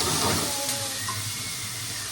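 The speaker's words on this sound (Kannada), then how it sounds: "ಎಣ್ಣೆಗೆ ಬಾಯ್ಲ್ಡ್ ವೆಜಿಟೇಬಲ್ಸ್ ಹಾಕಿದ್ದಾರೆ" Boiled vegetables dropped into hot oil in a home kitchen give a steady, loud, close hissing sizzle that holds evenly for about two seconds with no talking.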